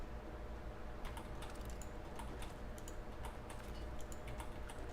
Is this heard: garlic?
no